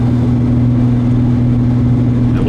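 A 1975 Ford Granada GL runs on the road with a steady, loud low engine drone and constant cabin road rumble throughout, no voices.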